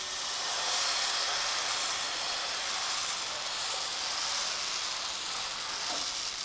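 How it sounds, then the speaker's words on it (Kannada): Dosa batter poured onto a hot griddle (tawa) for instant dosa, a steady close sizzling hiss that holds evenly throughout. "ಈಗ ಹಂಚ್ಕಾಯ್ದೈತೆ ರೀ, ನಾನು ದೋಸೆ ಹಾಕೋತೀನಿ ನೋಡಿರಿ."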